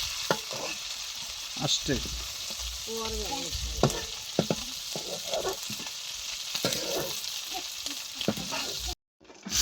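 Fish sizzles and spits in hot oil in a pan, a steady frying hiss with stirring clatter, as people talk nearby.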